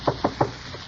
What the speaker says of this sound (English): when he knocked on Tony's door with its sliding peephole in the panel